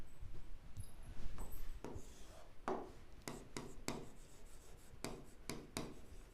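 Pen scratching across paper while math equations are written out, a series of short scratchy strokes and taps in an uneven rhythm, fairly close and moderately quiet with no talking.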